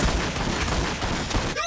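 Rapid gunfire from an Orks versus Tyranids battle in a Warhammer 40,000 video game, a dense continuous fusillade of overlapping shots filling the whole moment at steady loudness.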